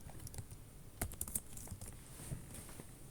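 Quick, irregular clicks of fingers typing on a computer keyboard, fairly faint and close, with a denser burst of keystrokes partway through.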